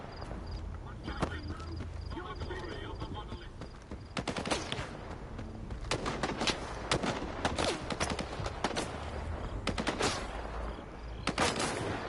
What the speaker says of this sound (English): there is somebody shooting, at least